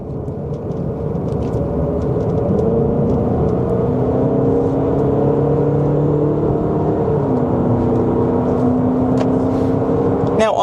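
A 2025 Cadillac XT4 Sport crossover at highway speed: a steady, loud cabin drone of engine and road noise with a sustained whirring tone that shifts pitch partway through.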